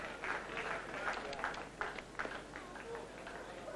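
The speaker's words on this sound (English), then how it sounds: "Grittar with his young rider, Dick Saunders, getting a great cheer from the crowd" A racecourse crowd at the 1980 Aintree Foxhunters Chase cheers Grittar, a dense, steady wash of distant cheering and clapping under a commentator's voice.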